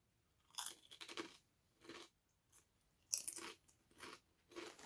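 Lay's pork-flavored potato chips crunched in someone's mouth, close and crisp, a series of separate bites and chewing crunches with short silent gaps between them.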